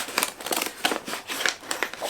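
Scissors snipping through paper or fabric at close range, a quick run of sharp crisp cuts in steady rhythm with light crinkling, heard alone.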